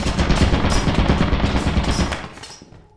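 Rapid, sustained turret machine-gun fire in a video game, loud and close, a continuous rattling stream that slowly fades out over a few seconds with no talk.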